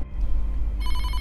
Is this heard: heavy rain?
no